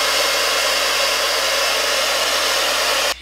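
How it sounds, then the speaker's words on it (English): A blow dryer on its cool setting runs as a steady, loud broadband whoosh, used to dry and set a wig install over natural hair, cutting off abruptly at the very end. "I'm going to take my blow dryer again on the cool setting and help everything dry and stick into place"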